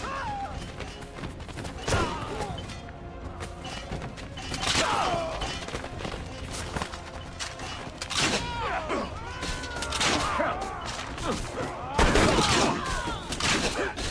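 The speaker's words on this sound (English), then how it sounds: "Have Ezio shoot his gun." Repeated gunfire from Ezio's gun in Assassin's Creed Revelations, sharp cracks and thumps scattered through a dense, noisy game mix with mechanical clatter and crashes.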